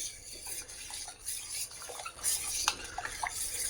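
A spoon scrapes and clinks against a metal pot while hot milk with vinegar is stirred, giving soft, irregular scraping and tapping strokes close to the listener.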